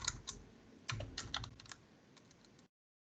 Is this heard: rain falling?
no